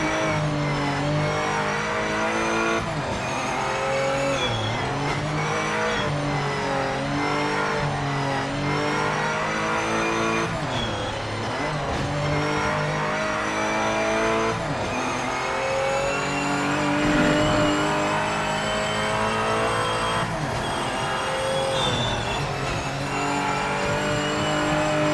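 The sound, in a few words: race cars driving in video game Project Motor Racing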